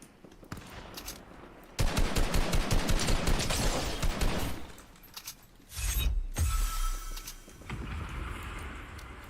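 Rapid automatic gunfire in Fortnite, loud rattling bursts broken by short pauses, with clanking mechanical sounds between volleys.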